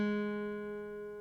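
A single guitar note fretted with the index finger at the first fret of the third string, ringing steady and clear for over a second, close and moderately quiet, slowly fading with no talk.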